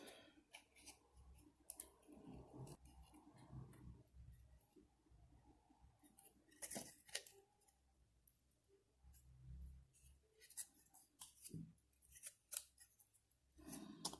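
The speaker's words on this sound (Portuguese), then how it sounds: "Cortar aqui, linha reta, que é a lateral do corpo." Scissors snip through paper along a straight line for an art lesson, a steady series of crisp close cuts and rustles with brief pauses, quiet and with no voices.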